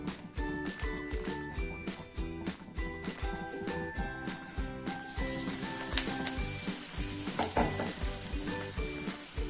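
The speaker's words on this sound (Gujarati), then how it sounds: "અને હવે આપણે તેલમાં પાડી દેશું." Coriander-leaf bhajiya fritters, coated in batter with the stems left on, sizzle loudly in hot oil. A steady crackling hiss grows denser partway through, with background music playing throughout.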